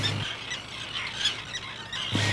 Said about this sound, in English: They are screaming 24 hours a day, the terns are.